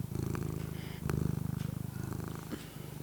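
Horace the cat purrs close up in a steady, rhythmic rumble of drawn-out breaths, loud and continuous with no talking.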